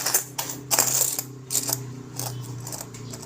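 Coins clinking and dropping against one another in a sequence of bright metallic jingles, loud and close, with a low steady hum underneath.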